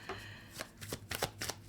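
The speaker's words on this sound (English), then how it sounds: "I'm shuffling the cards" Tarot cards are shuffled by hand in quick riffling bursts, several sharp papery flutters in an uneven rhythm, close and clear with no talking.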